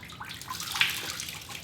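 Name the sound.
squeezing water out of a wet car wash towel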